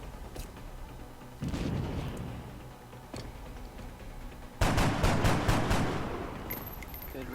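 Several bursts of gunfire from the video game XCOM, a rapid volley followed a few seconds later by a louder, denser cluster of shots with a lingering rumble, and no talking over it.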